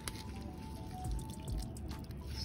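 Water dripping and trickling faintly as soaked plant medium is squeezed out by hand, with a few soft splashes close by and no talk.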